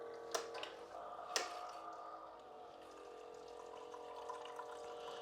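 A Bartesian cocktail maker pours a vodka drink, a faint steady trickle of liquid with a couple of sharp clicks near the start, quiet and continuous with no talking.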